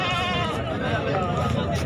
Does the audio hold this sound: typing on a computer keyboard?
no